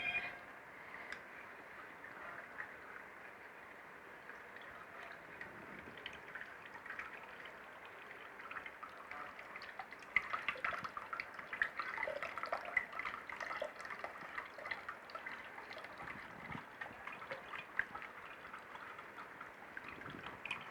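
Homemade jamun vinegar made with jaggery, steady faint trickling and dripping as the liquid strains through into a container, continuous and quiet with no talking.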